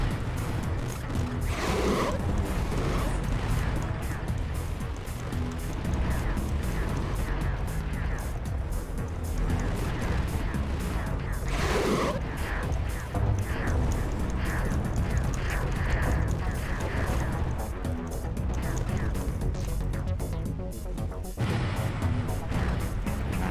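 Tank cannon fire in the 2001 video game Combat: dense, loud, continuous battle noise with repeated booming shots and rumbling engines, and a voice talking faintly underneath.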